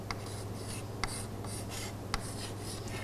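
A pen writes on glued cardboard up close, making quiet, scratchy strokes with a few sharper taps as it lifts and lands, and no one speaks.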